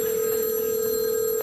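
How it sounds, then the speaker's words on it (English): A telephone bell rings in one sustained electronic tone that stops abruptly near the end, loud and alone with no talk over it. "Can they hear the phone?"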